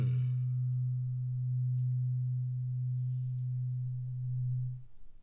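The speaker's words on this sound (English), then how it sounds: "if I play this fork on its own close to the microphone, that it's very, very low in its frequency" A weighted tuning fork, struck and held close to the microphone, rings with a very low, soft, steady pure tone that sustains unbroken for about five seconds before cutting off.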